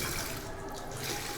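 Water gushes steadily from a drinking-water tap at a school, a continuous broadband rush heard close and fairly quiet throughout.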